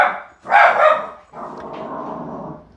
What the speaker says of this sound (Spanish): Tú no puedes tener un perro como este porque hace ruido e interrumpe la transmisión